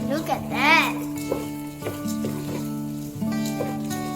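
Rice sizzles as it fries in oil for Indian-style nasi minyak in a Penang home kitchen, a steady frying hiss running beneath continuous speech and tonal background sound.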